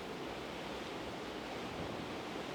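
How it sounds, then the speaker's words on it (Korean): Strong typhoon wind roars over rough sea waves on the Jeju coast, a dense, unbroken broadband rush with no voices, constant and close to the microphone. "강한 바람과 거친 파도가 태풍이 이렇게 다가오고 있음을 실감할 수 있습니다."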